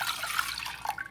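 White vinegar poured to make a pickling brine for pink pickled turnips, a steady close liquid splash and trickle that lasts about a second, with no speech.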